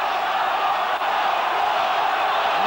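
Rugby test crowd between New Zealand and Australia in 1985, a broad, steady roar of chanting voices from a distant stadium, continuous and unbroken throughout.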